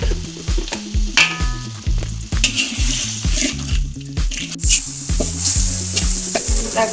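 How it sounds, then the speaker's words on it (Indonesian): Vegetables for simple fried rice stirring and sizzling in a pan with seasoning, a steady close frying hiss broken by rhythmic scraping strokes of the spatula, loud and without talk. "Kita goreng sampai agak kering"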